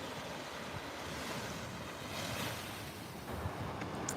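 Ocean surf rolling onto a beach, a steady, fairly distant wash of breaking waves with wind rustling across the microphone and no voices.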